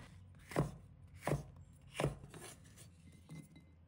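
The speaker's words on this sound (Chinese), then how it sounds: "准备青红椒各取半个， 把它切成菱形块。" A knife chops green and red bell peppers into diamond pieces on a board, three crisp, evenly spaced strikes followed by a softer fourth, close and clear with no talking.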